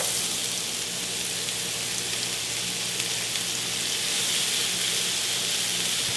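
Leeks sizzle in a pan of butter and olive oil, a constant bright frying hiss that stays loud and even throughout, with no talking.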